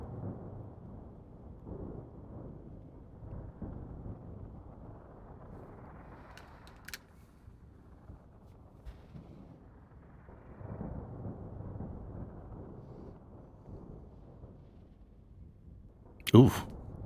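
A storm rumbles across the Martian landscape in Occupy Mars, with low rolling thunder and wind swelling and fading, plus a sharp crack near the end, while a voice talks over it.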